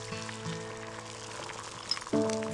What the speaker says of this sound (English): And now I'm scrambling the egg and shaking and stirring at the same time.